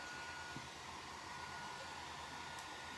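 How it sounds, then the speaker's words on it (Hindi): A hair dryer runs continuously, a steady loud whooshing hum with a faint tonal whine, holding even from start to finish with no voices. "hair dryer"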